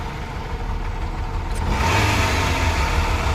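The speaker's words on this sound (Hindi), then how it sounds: "और इंजन की आवाज़ देखो कितनी प्यारी" A Maruti Eeco running on gas idles with a steady engine hum, then the revs rise about halfway through into a louder, fuller drone that holds to the end.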